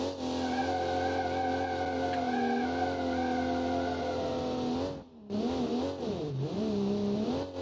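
A Kiev Motors car in BeamNG driving off-road, its engine droning loud and steady with shifting pitch, a brief dip as the revs drop, then surging again with wavering revs.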